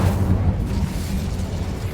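Incendio fire spell cast in Hogwarts Legacy, a loud low rumbling whoosh of flame that bursts at once and rolls on steadily for the full two seconds with no voices.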